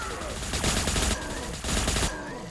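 Kasrkin squad of the Astra Militarum firing in Warhammer Battlesector, a loud dense fusillade of rapid gunfire in two sustained bursts with a brief gap between them.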